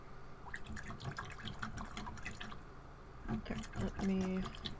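Paint brush swished and rinsed in a water cup during oil painting on wood slices, soft sloshing and dripping close by with a few clinks, faint against quiet room noise.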